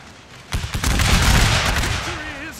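Musket volleys crack out in a Gettysburg battle video game, a sudden loud burst of overlapping shots that rolls into sustained roaring gunfire, with shouting voices over it.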